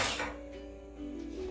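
Plastic lids pressed onto sandwich containers in a kitchen, giving a short clatter of light clinks and taps at close range, then a few softer knocks, with no talk.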